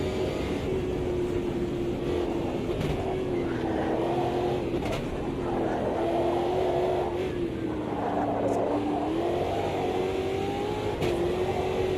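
Race car engine in the sim racing game Automobilista 2, a steady loud drone wavering in pitch as revs rise and fall with turbo boost, continuous throughout.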